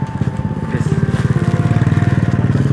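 A motorcycle engine idles close by with a steady, pulsing putter that grows slightly stronger, loading packets onto the bike during a Ramadan charity handout in Pakistan, with faint talk beneath.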